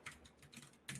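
A faint, fast patter of computer keyboard keys being typed, a brief run of soft clicks with no talking.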